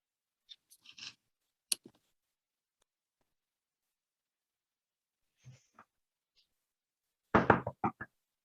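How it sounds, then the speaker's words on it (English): Knocking on a door during a comedic stage play, a short cluster of firm, close raps near the end after a few scattered light taps and faint noises in an otherwise quiet room. "Knock, knock."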